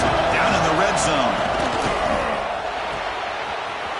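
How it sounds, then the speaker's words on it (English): Roaring football stadium crowd at a Texas A&M game cheering on the defense in the red zone, a loud, steady wash of voices with whistles and shouts that eases slightly over a few seconds. "And the crowd coming to life here, trying to help this defense down in the red zone."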